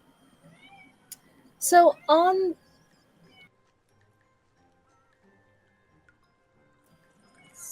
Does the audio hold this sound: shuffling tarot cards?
no